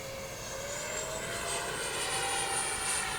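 A Freewing 64mm F-14 Tomcat RC jet flies past with a continuous, loud ducted-fan whine that rises slowly in pitch, a steady rushing roar with no talking over it.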